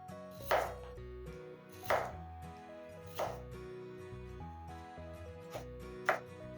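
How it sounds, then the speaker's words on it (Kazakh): A knife cuts potatoes into fries on a board, five crisp chopping thuds spaced about a second apart, close and clear in a quiet kitchen with no talking. "қажетті емес жерлердің барлығын 4 жағын кесіп алатын боламыз"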